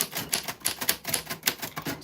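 Manual typewriter keys struck in a steady, fairly quick rhythm, each sharp clack distinct and close, with no voices over the typing.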